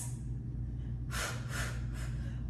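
Controlled exhales during a home floor workout: three forceful, breathy outward breaths in steady succession, close and fairly quiet over a low background hum, with no speech.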